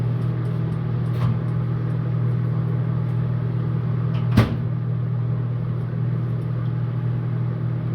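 A microwave oven hums steadily while melting butter, a constant low drone with one sharp clunk midway and a faint click earlier.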